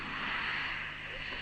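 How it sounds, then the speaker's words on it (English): Avro Vulcan jet bomber with four Bristol Olympus turbojets spooling up on the runway before takeoff, in 1956 footage: a steady, dense broadband roar that holds loud and even throughout, with no distinct bursts. "Avro Vulcan 4 Bristol Olympus turbojet. Now opening up preparatory to taking off."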